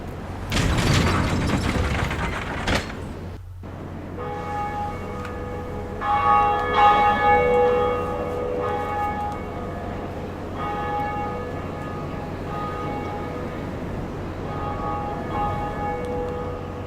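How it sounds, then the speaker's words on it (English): A Bell of Awakening rings in the video game Dark Souls: a loud opening burst with mechanical clanking of gears, then deep resonant bell strikes whose tones linger and fade. "We're trying to ring the 2 Bells of Awakening. And this is, of course, our first Bell of Awakening. Which we're about to ring."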